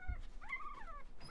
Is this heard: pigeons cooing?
no